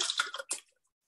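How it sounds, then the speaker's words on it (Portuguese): Tap water splashes briefly into a cup in a few quick pours, close and fairly soft, then fades to silence. "E vamos colocar aqui a água da torneira, né?"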